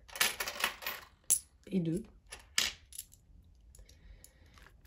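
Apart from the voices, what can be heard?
coins being counted and dropped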